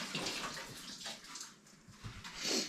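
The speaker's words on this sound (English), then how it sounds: "let me wash this one off" Running water splashes steadily as an object is rinsed off, a faint, continuous wash with no voices.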